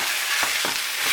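Spaghetti cooking in a pan gives off a steady, close, loud sizzle and hiss that carries on throughout, with a couple of faint stirring scrapes. No speech is heard.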